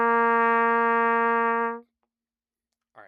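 A single sustained brass-band concert B flat held steady for nearly two seconds, then silence, with a brief faint sound at the very end.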